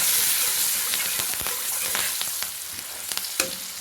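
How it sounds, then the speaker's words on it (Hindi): Turmeric being stirred into hot oil in a pan, a steady close frying sizzle with scattered sharp crackles and spatters throughout, no voices. "और उसके बाद हम इसको थोड़ा सा घुमाएंगे।"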